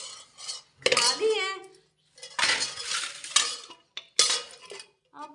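Metal kitchen pots and utensils are handled and set down in bursts of clattering and clinking, loud and close, with brief pauses between.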